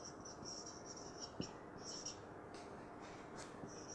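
Marker or chalk writing on a classroom board during an English grammar lesson, a steady faint scratching with brief strokes and taps, low and continuous throughout.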